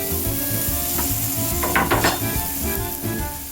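Pancetta fries in oil in a pan, giving a steady close sizzle with occasional scraping and stirring clatter against the pan.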